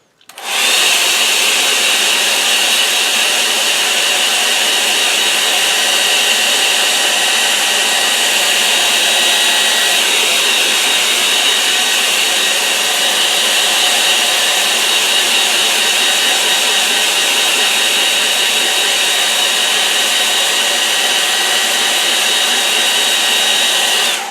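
A hair dryer blows over a wet-in-wet acrylic painting, switching on abruptly, then holding a loud, steady, airy whine for over twenty seconds with no talking.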